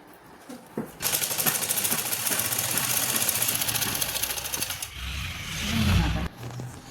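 A sewing machine stitches a salwar seam in a long, steady mechanical whir with a rapid needle rhythm for several seconds, then slows and stops, followed by soft handling of the fabric.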